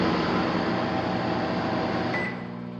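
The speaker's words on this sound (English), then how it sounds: "And the vent fan starts blowing." Microwave oven vent fan running on a 1980s appliance, a loud steady broadband whoosh with a faint hum close by that drops to a lower level near the end, no talking.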